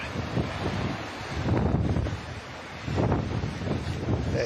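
Gusty wind buffets a microphone outdoors, with rough low rumbling swells that rise and fall in loud surges across the whole clip, no voices heard.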